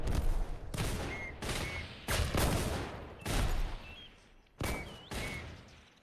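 Artillery strikes and gunfire in the Entrenched video game, a rapid series of loud sharp blasts and bursts with short gaps between them, close and harsh, with no talk.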